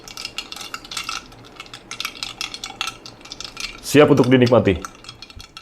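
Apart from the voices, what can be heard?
stirring brewed Japanese-style iced Aceh Gayo coffee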